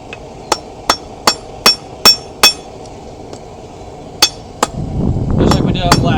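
Sharp hammer blows on hot steel at a backyard forge while drawing out the end of a forged leaf. Six evenly spaced ringing strikes come first, then a pause, two more blows, and a rising rough scraping noise.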